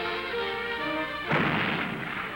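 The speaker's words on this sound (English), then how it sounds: "Jordan guns fire on the Judean hills" Jordanian artillery guns fire on the Judean hills in the 1967 war, a long rumbling roll of distant gunfire broken by a sudden heavy burst midway.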